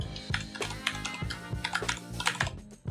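Rapid, close keystrokes on a computer keyboard as code is typed, a busy continuous patter of crisp clicks with no talking.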